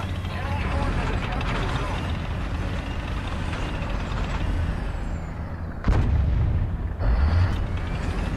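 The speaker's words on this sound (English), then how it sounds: "This T-55 went boom in front of me" A T-55 tank explodes in a video game with loud, continuous rumbling blasts, and heavier booms land near the end.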